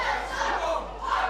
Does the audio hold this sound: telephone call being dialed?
no